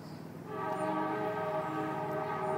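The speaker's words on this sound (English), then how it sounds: "train going by" A train rolls past with a sustained horn blast. The tonal blare starts about half a second in and holds steady at a moderate distance, with no voices over it.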